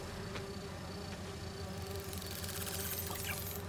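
Insect buzzing from virtual bee wolves in Marvel's Spider-Man 2 drones steadily throughout, a soft continuous hum with faint fluttering and no speech.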